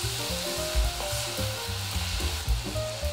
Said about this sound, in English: Break up the pork slices well and stir-fry thoroughly.